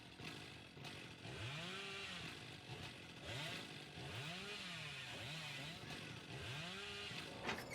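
A chainsaw in Dead by Daylight revs in repeated rising and falling bursts, roughly rhythmic like a beat, over a steady droning bed of game noise.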